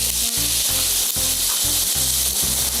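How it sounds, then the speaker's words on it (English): Onions sauté in about two tablespoons of hot oil in a pan, a loud, continuous sizzle with a steady crackling hiss and no talking. "And I'm going to saute my onions"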